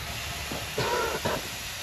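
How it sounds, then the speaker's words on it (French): Air ride suspension on a custom car lets out two short bursts of pneumatic hiss, one longer and one briefer, close by over a low steady background. "On va faire voir le air ride un peu."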